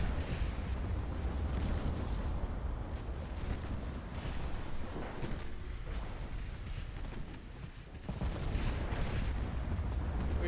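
Heavy 18-inch naval guns fire in the Ultimate Admiral: Dreadnoughts warship game, dense rolling booms and rumbling blasts piling on one another, loud and continuous, with a brief dip before the roar resumes.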